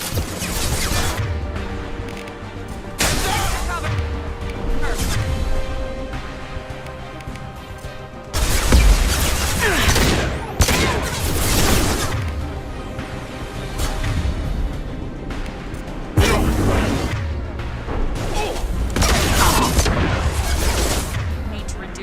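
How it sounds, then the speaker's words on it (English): Gunfire in the Mass Effect 2 video game, with loud repeated bursts and booming impacts in dense waves, a heavy blast near the middle, and a spoken voice running underneath. "Need to reduce the amount of guns shooting at me."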